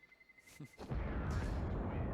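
A grenade goes off on the Inferno map in Counter-Strike: a loud, close blast lands near the middle and rumbles on, after a few sharper clicks and pops at the start.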